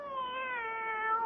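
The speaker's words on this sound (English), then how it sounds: "My very own cat." A cat gives a single drawn-out meow in a CBS Radio Mystery Theater drama, a clear, mid-level cry lasting just over a second with no talk over it.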